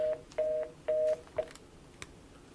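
Telephone keypad dialing tones for a call-in on a live news show: three longer paired beeps and a short one in quick succession, followed by a faint click, with no voices.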